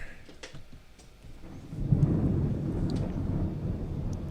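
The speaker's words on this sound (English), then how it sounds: "That's thunder." A deep rumble of thunder rolls in and holds steady, low and loud, with no one speaking.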